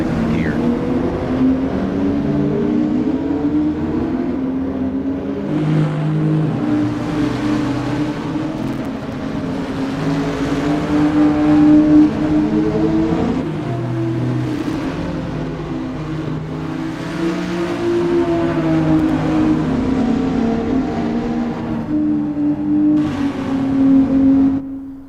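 GT4 race cars in a sim racing game, a continuous loud drone of several engines revving and shifting together, rising and falling steadily throughout without a break.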